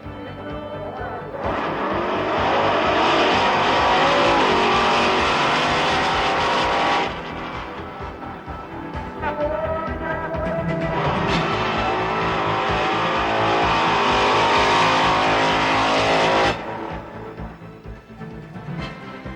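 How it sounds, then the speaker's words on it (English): Bigfoot monster trucks drag racing side by side in a stadium exhibition, a loud sustained engine roar that surges in two long full-throttle bursts with a brief drop between them. "Also paired up were the fastest members of the Bigfoot family for side-by-side drag racing."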